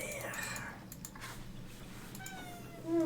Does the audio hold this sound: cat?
yes